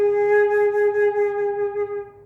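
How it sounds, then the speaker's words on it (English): Flute sounding a low G sharp using the G sharp key: one steady, sustained note with a clear pure tone and slight breathiness, close and moderately loud, held for over two seconds alone. "This is low G sharp"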